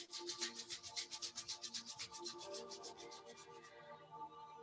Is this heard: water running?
no